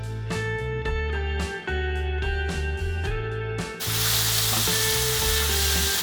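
Bay leaves and ginger-garlic paste frying in hot oil for restaurant-style chana masala, a steady sizzle with ringing tonal hum and a few clinking stirs, rising to a louder, denser hiss midway; no talk.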